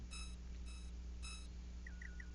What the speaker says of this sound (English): my alarm just went off